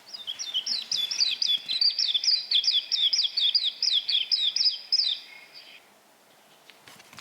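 A Japanese white-eye or Japanese paradise flycatcher sings a rapid, high, rhythmic run of chirping notes for about five seconds, clear and close against a quiet background, then stops.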